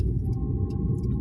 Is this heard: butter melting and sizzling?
no